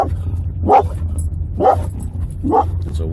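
A wolf dog named Coco barks three times at an even pace, fairly close, over a steady low engine hum.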